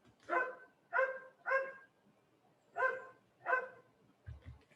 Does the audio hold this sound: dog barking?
yes